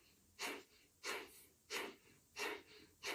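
Five rhythmic, evenly spaced breaths panting in and out through the nose during yoga practice, soft and close, each a short airy puff with quiet gaps between.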